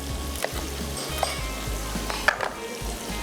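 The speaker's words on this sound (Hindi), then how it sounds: "मेरे पास थोड़ी सी हरी मिर्चें भी हैं, ये भी इस स्टेज पे डाल के ज़रा करते हैं फ्राई" Green chillies frying in a pan, a continuous loud sizzle with a few light clinks and scrapes of a utensil, close and without voices.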